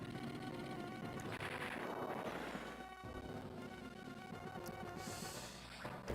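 Rapid rattling gunfire and cannon shots from a tank in the Advance Wars 2: Black Hole Rising game, layered over game music, with bursts clustering through the middle and a sharp cut near the end.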